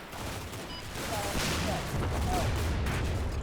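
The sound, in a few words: tank gun firing in the video game Combat Mission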